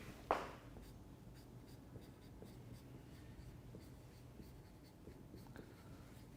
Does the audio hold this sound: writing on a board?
yes